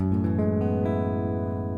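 A single acoustic guitar chord in the key of E, some strings left open, rings out and sustains, its notes layered and steady, fading slightly over a couple of seconds.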